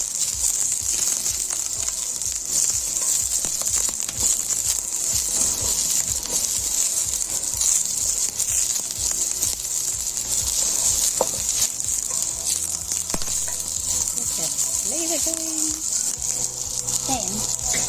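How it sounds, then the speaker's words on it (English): Onions frying in olive oil in a wok, a loud continuous sizzle with stirring clatter, and a voice speaks briefly near the end. "I've tossed some onions and some olive oil onto a wok, and we're just going to get those going"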